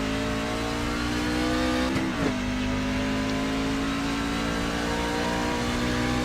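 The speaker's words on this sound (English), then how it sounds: "Can accelerate long straight here to the start finish line." Race truck engine from the All American Racing League Truck Series at Circuit of the Americas in a racing video game, droning steadily at high revs down the long straight with a brief pitch dip and shift, loud and close throughout.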